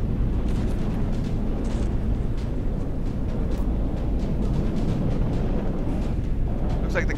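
Missiles explode continuously in the naval combat game From The Depths, a dense rumbling barrage of booms and bursts with no clear gaps.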